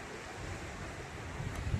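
Cold wind blows steadily at an outdoor spot, making a low, even rush of air noise with slight gusting buffets near the end.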